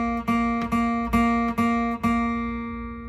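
Single acoustic guitar note on the second fret of the G string, plucked five times in a steady rhythm, each pluck ringing clearly and close up before the next, with the last note left to sustain and fade.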